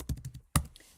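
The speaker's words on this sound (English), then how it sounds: "I'm just typing a message" Quick bursts of clicky keystrokes as someone types a message on a computer keyboard, a flurry of taps, a brief pause, then a sharper key strike, close and moderately loud.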